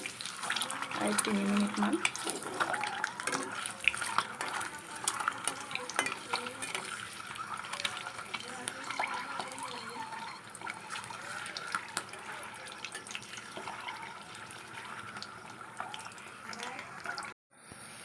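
Eggs frying in a pan for an Assamese egg curry, giving a continuous soft sizzle and hiss with faint stirring clatter beneath, while a person speaks over it.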